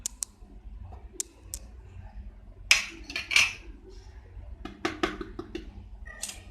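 Spices going into a bowl for mango ginger pickle, heard as scattered light clinks and taps of a spoon against the dish, with a few sharper metallic knocks near the middle, close and fairly quiet without talk.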